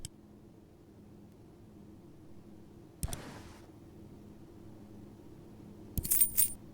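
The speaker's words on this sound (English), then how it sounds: "Kyle scooped up the change scattered around the desk drawer." Coins scattered in a desk drawer are scooped up in a video game, with a brief clatter near the middle and a brighter metallic jingle of change near the end, over quiet background hiss.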